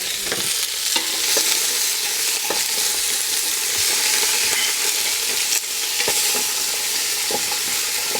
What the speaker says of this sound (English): we're browning the spices and the veggies off in that